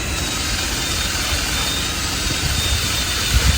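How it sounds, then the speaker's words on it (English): A power tool's wire wheel scours a metal battery cover in a home workshop, a loud, steady, whirring grind that holds evenly throughout with a slight surge near the end. "I'm going to hit this with the wire wheel, give it a good clean"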